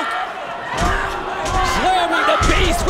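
A women's wrestler slams her opponent onto the ring mat during a WOW match, heavy thuds landing amid a roaring arena crowd while commentators talk over the action.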